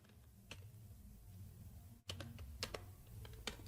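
Faint, quick clicking of keys on a computer keyboard while C++ code is written, scattered taps with a short burst of rapid keystrokes, soft and close with no voice over it.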